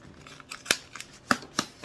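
A package of unbleached parchment baking paper being cut open: a quick run of five crisp, close snips at an uneven rhythm against near silence.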